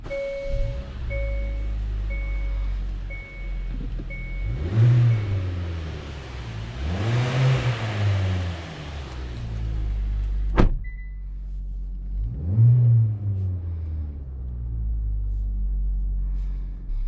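2021 Hyundai Elantra on a test drive: a steady engine and road rumble, with the engine rising in pitch during acceleration three times, plus a sharp click near the middle.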